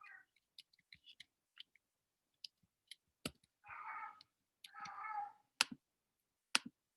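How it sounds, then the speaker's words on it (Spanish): A kitten gives two drawn-out, soft meows among scattered faint clicks and taps in an otherwise quiet room, with no talking. "Uy, un gatito."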